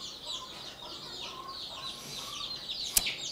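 Chickens on a farm cluck and chatter continuously at close range, with a sharp, brief squawk or rattle near the end and no talking over them.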